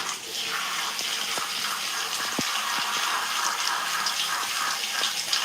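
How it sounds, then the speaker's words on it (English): Water runs steadily from a tap or shower while hair is rinsed, a continuous close gush with occasional soft knocks and drips. "I like to change the water pressure when I'm rinsing my hair too."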